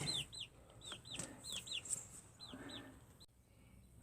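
Young chicks in a henhouse giving repeated high chirping peeps in quick bursts, fairly close, with soft scratching and pecking underneath and a brief pause near the end.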